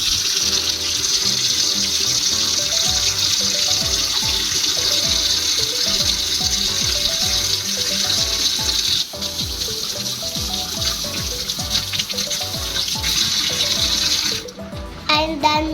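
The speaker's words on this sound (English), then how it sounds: "First, I'm going to wash my hands." A kitchen tap runs steadily while hands are washed, a continuous bright gushing stream that lasts the whole time, close and loud, with a brief disturbance near the end.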